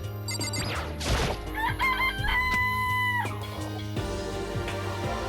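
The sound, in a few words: chicken clucking and crowing in the video game Danganronpa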